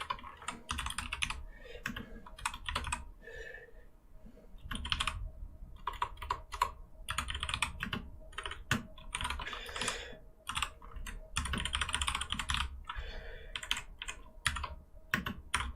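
Steady rapid typing on a computer keyboard while coding a snake game, clattering keystrokes in dense bursts with brief pauses, close and clear with no talking.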